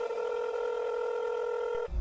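A cell phone being dialed gives one sustained electronic keypad tone, steady and fairly clear for almost two seconds before it cuts off abruptly.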